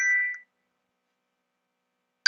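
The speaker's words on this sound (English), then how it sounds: "I'm getting a phone call" Phone ringing with an incoming call: a short electronic ring tone, then near silence, then another brief burst of the ring beginning.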